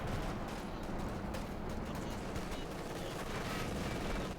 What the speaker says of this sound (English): Caught by the machine gun bunker.